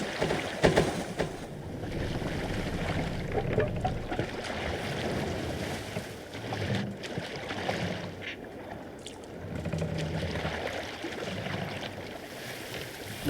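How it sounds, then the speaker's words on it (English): A crew rows a boat in Assassin's Creed Valhalla, with oars splashing and water washing in a steady rhythm under wind and a rushing ocean ambience that swells and fades over several strokes. "Man your oars!"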